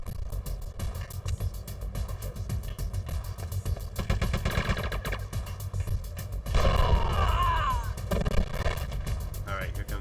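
Rapid machine gun fire in Metal Gear Solid: The Twin Snakes, a dense continuous rattle of bursts with booming low end and game effects layered on top, loud throughout and swelling near the end.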